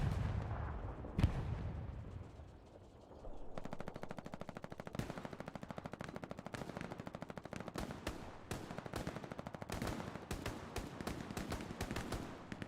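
Rapid, continuous gunfire in Hell Let Loose, a World War II shooter, with machine-gun bursts rattling over dense battlefield noise and heavy booms, loud and sustained after a brief lull near the start.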